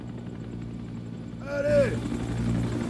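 A helicopter in a military video game hums steadily throughout, its rotor and engine drone swelling slightly midway while a voice calls out over it.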